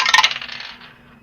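Dice tumbling down a tabletop dice tower during a tabletop game session, a quick burst of bright clattering rattles that fades out within about a second, heard alone.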